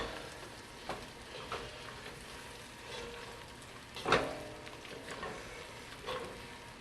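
Vegetables with mushrooms and onions sizzling in a pan for a snapping turtle soup base, a steady soft frying crackle with a few louder pops and stirring scrapes, close and moderately quiet.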